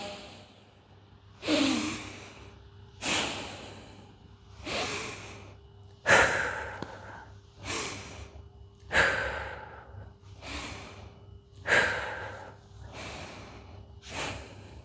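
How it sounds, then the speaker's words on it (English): Slow, deep breaths during gentle hatha yoga, exhaled through the mouth in a calm, even rhythm of about nine breaths, close and clear over a faint low hum. "Here you might want to switch to breathing out of your mouth."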